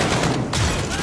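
An SVD rifle firing in the video game Modern Warfare: a loud, dense burst of gunfire with a brief dip in the middle, close and continuous over a second, no speech.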